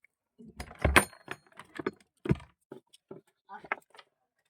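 Keys jangle in short metallic bursts while a door is unlocked, close by, in quiet spells between stretches of someone talking.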